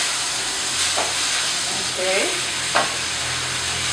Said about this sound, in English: we'll just fry this now until it's all sort of brown